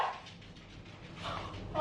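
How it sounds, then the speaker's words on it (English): A startled dog barks and yips in a house after fabric softener falls, a few short close sounds, the last louder, over quiet room noise. "fabric softener fell and the dog jumped"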